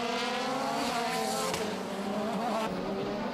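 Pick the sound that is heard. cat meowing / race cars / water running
race cars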